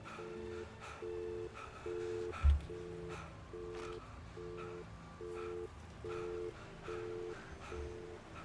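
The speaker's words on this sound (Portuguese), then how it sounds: "O telefone." A telephone rings in the horror game Alan Wake 2, a steady electronic ring repeating in short, evenly spaced pulses over a dark ambient bed, with one brief low thud partway through.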